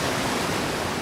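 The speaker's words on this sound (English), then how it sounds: "It's a waterfall." A waterfall in the space exploration game Outer Wilds roars as a steady, full, broadband rush of falling water, continuous and close, with no other sound over it.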